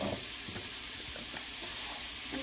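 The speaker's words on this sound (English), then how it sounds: "I am just putting these zoodles right into the pan just so that they are heated" Zucchini noodles warming in a pan with a little olive oil, giving a soft steady sizzle and hiss with light stirring scrapes, close and continuous, with no talk.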